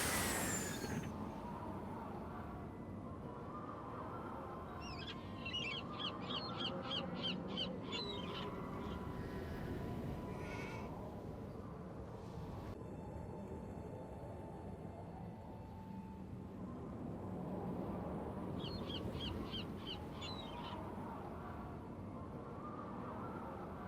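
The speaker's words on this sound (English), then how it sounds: "Wonder what that crow's doing in there." A crow caws in a castle setting in the Nancy Drew video game, two short bursts of rapid harsh calls early and late over a low ambient rumble, fairly faint and somewhat distant, with no speech.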